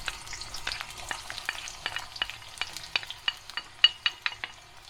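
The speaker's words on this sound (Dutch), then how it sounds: "zoals je kan zien zijn de uien een beetje aan het frituren" Onions frying in a pan give a soft steady sizzle, with repeated sharp clicks and scrapes of stirring that come in an uneven rhythm and grow a little louder toward the end.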